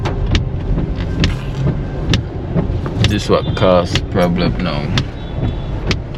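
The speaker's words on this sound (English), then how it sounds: "I just ran into a congestion of traffic" Congested road traffic on Spanish Town Road in Jamaica after rain, with car engines idling and passing close by, a steady vehicle rumble and a few sharp clunks under someone talking throughout.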